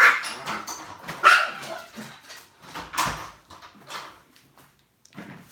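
Household dog barking in a series of sharp, irregular yaps and woofs, close and fairly loud, with brief pauses between bursts and some knocking sounds in the room.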